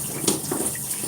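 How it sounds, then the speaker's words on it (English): Steady hiss of shower water pouring and splashing in a bathroom, close and continuous with small spattering bursts. "I'm about to get out of the shower."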